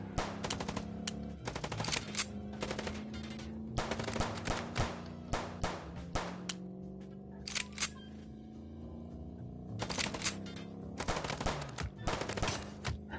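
Rapid automatic gunfire from a video game shootout, loud bursts crackling in repeated volleys with brief pauses between, dense and close throughout with no talking.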